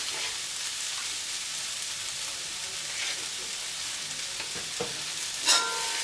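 Three medium chopped potatoes fry in a pan with a steady, close hiss of sizzling oil and a few soft stirring scrapes, with no talking.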